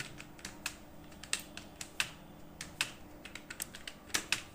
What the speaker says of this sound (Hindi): कुछ भी टाइप करना हो, जैसे अब हमें टाइप करना है A S D F G dot L के जे H A S D F G